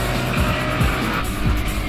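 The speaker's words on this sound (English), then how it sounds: "The FC is cornering while blocking in the Evo" A Mazda RX-7 FC race car corners hard in an anime race, tires squealing in repeated sweeping skids over a loud, steady engine roar, close up and without talk.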